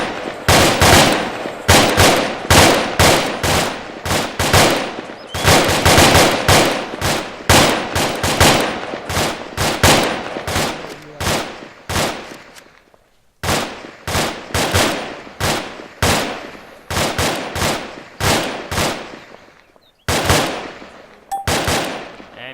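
Video game rifle gunfire in sustained rapid bursts, loud and close, with crackling volleys repeating for over twenty seconds and only brief pauses between them.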